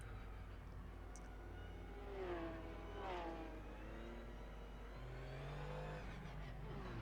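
Porsche 911 Cup car of 2017 in Assetto Corsa at the Barcelona circuit, its engine droning steadily up close with rising and falling revs through gear changes, a continuous mid-pitched hum throughout.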